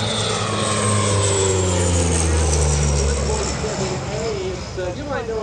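A Dash 8 turboprop airplane of the US Army Golden Knights parachute team at EAA AirVenture 2025 drones loudly overhead, a steady propeller roar with shifting tones while an announcer's voice talks over it.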